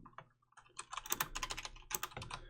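Rapid typing on a computer keyboard while coding a Unity and Node.js game server: quiet, close clicking keys in irregular bursts, with a brief pause before a denser run of keystrokes.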